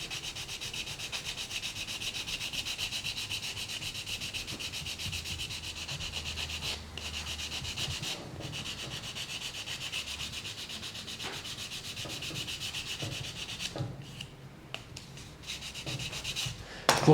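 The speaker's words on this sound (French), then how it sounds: "Donc là, je vais poncer le dessous" A hard square sanding sponge rubs the underside of a scale model in a steady, close rasping scrub that runs on for many seconds and grows more broken with small knocks near the end.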